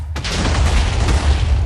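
A TNT blast in Minecraft with a real-life physics mod: a sudden loud, deep boom that rolls into a dense rumbling, crackling roar filling the rest of the moment.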